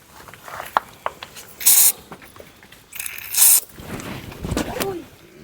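A can of spray fires two short, sharp hissing bursts a second or so apart, loud and close, amid scattered light clicks and rustling.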